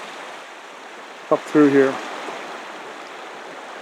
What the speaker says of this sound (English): At the first river crossing, there's several crossings